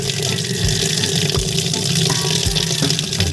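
Water runs from an outdoor tap in a steady loud gush, continuous and close, with no pauses and no voices.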